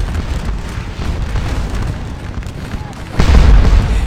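Musket fire on Prussian skirmishers in the Napoleonic game Scourge of War: Waterloo rumbles as a dense, distant crackle of volleys. A louder, heavier burst of booms swells near the end, with a voice talking underneath.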